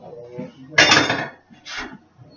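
A scoop of vanilla ice cream placed onto a caramel apple dump cake, heard as two short scraping, clattering bursts of utensil against dish, close by with faint background noise.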